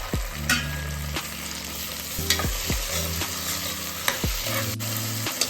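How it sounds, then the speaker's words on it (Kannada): Onions and green chillies frying in a pan, a steady sizzle punctuated by regular, close, clanking stirs and scrapes of a spatula, about one every second, with no voices. "ಈರುಳ್ಳಿ ಮತ್ತು ಮೆಣಸಿನ್ಕಾಯಿ ಹಾಕಿ ಬಾಡಿಸ್ಕೊತಾ ಇದ್ದೀನಿ."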